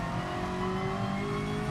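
Ferrari F40 engine in GT Sport climbing Griffin's Mount at Bathurst, a steady loud drone of harmonics rising slightly in pitch as the car accelerates, with no talking over it.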